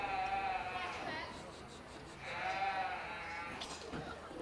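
A goat bleats at a school livestock show, two or three wavering cries at mid distance over background chatter and murmur from the crowd.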